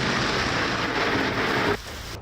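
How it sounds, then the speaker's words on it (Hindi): Thunder from a lightning strike during a heavy rainstorm near Amer in Jaipur, Rajasthan, rolls as a loud, continuous rumble blended with the hiss of pouring rain, then drops off sharply, leaving quieter rain. "ये कड़कती हुई इस बिजली की आवाज से लगाया जा सकता है"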